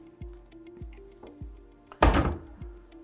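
A dental practice cabinet drawer opens with a single sharp thunk about two seconds in, preceded by several soft low knocks of handling, with no talk.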